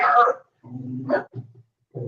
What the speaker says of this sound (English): Normally towards the end of a video, the dog barks.